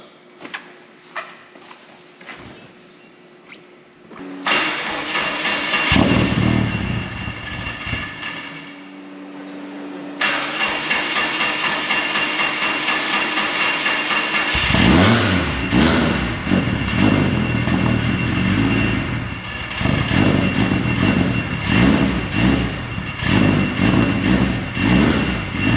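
A Subaru engine, built toward 800 horsepower and freshly back from the dyno, cranks over and catches at about ten seconds, then settles into a steady, loud idle heard up close for the rest of the clip.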